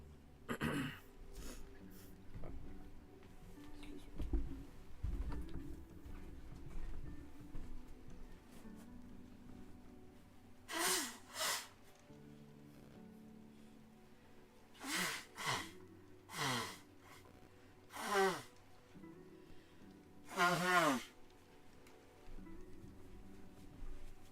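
A person clearing their nose with a series of sharp, close snorts and sniffs, spaced irregularly, between quieter breathing.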